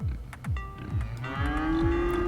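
Cattle in Cities: Skylines low in a few long, deep moos that overlap and swell, loud and close with no talking.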